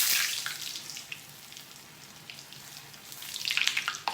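Food deep frying in hot oil in a home kitchen gives a steady, crackling hiss that swells at the start and again near the end, with no talking over it.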